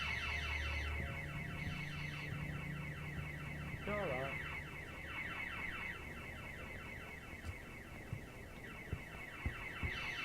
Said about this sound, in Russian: Steve, there's been an alarm set off.